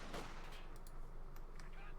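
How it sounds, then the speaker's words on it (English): Scattered gunfire bursts and battlefield explosions from the World War II strategy game Company of Heroes 2, with a machine gun among the combat sounds, fairly faint and mixed under a commentator talking. "And now she's just wrecking the machine gun"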